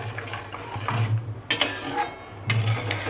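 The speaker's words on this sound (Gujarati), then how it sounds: "તો આપણે સારી રીતે મિક્સ કરી અને 5 થી 7 મિનિટ સારી રીતે હલાવશું." A spoon stirs tomato ketchup sauce with lemon juice and salt in a cooking pot, giving soft scraping and a few sharp metallic clinks against the pot. The clinks come in short bursts over a quiet background.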